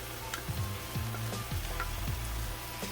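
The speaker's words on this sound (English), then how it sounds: "soon that garlic hit the heat" Finely chopped fresh garlic sizzles steadily in a hot pan, a close, even crackle with small pops scattered through it and no talk.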